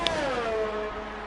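F1 race car in a video game entering the pits, its engine note falling in a smooth downward glide as it slows, heard alone and fairly close for a brief moment.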